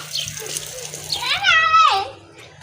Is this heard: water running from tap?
yes